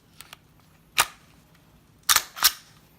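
A Glock 17 Gen3 pistol slide is pushed back onto its frame and locks, giving a few sharp metallic clicks and clacks, close up, with two faint ticks first and a louder double snap near the end, no talking.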